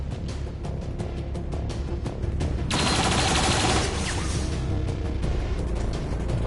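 Loud, dense bursts of rapid gunfire in the XCOM 2 strategy game, with scattered shots at first and then a sustained barrage of fire in the middle, set over a steady game background.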